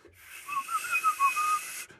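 A person whistles a short wavering run of notes up close, breathy and alone, with no talk.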